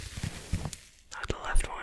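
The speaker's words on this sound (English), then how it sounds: "now let's test the sponges on this microphone. First the right side." Foam windscreen sponge rubbed and handled on the right side of a microphone, giving soft close scratchy rustles in short bursts, with a brief quiet gap midway before more crackly handling.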